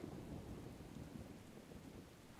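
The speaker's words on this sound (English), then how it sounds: "Looks like another storm on the horizon." A distant storm rumbles in the World of Warcraft game world, low and steady, with a constant rain-like wash. The noise is faint, spreads evenly across the whole moment, and has no voice over it.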